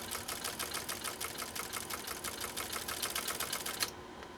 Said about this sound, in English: Now we're doing a straight stitch.